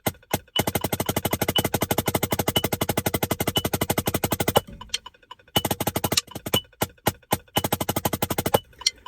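Rapid, evenly spaced drum strokes played fast and loud for several seconds, then a pause and a few sparser single hits, close and alone with no talk.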